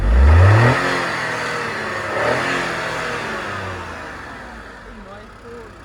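A Tata Altroz petrol car engine revs sharply at the start, then settles into a lower fading hum while someone talks over it.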